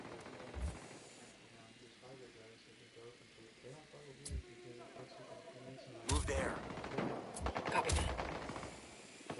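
Gunfire erupts in the video game Ghost Recon Wildlands, with scattered single shots early and then a dense burst of rapid fire near the end, all under players talking to each other.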